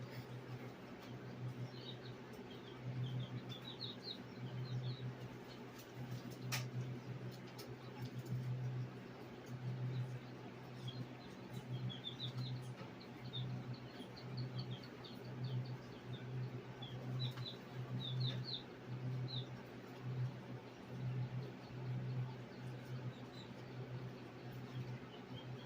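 A baby turkey chirps while hatching, giving faint, high peeps in small scattered clusters over a steady, pulsing low machine hum.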